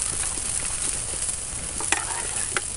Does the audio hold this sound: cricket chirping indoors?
no